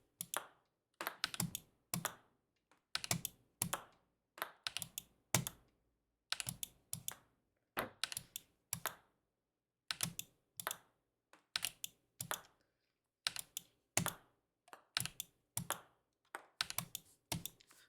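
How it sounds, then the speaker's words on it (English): A computer keyboard clacks in quick clustered bursts of typing and key presses, close and crisp, with short pauses between groups of strokes and no talking. "let me move my keyboard to the side so I can focus"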